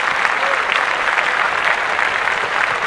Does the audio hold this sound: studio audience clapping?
yes